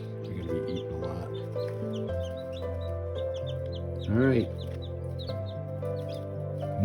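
Meat chickens in a breeding pen cluck and squawk close by, with a louder rising squawk in the middle, over steady background droning and a few short spoken words.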